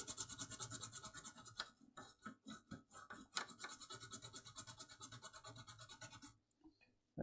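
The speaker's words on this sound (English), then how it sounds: "A little bit of IPA on the" Toothbrush dipped in isopropyl alcohol scrubbing an Xbox One S circuit board, with fast, close, rhythmic bristle strokes that rasp steadily, pause briefly midway, then resume before stopping at the end.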